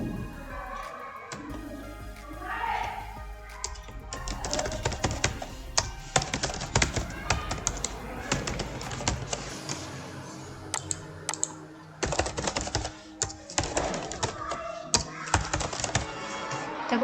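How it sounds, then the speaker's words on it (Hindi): Typing on a computer keyboard while working on a Word document, with dense irregular key clicks and thunks close by, plus a few faint voice sounds early on. "ये मुझे टाइप करुँची"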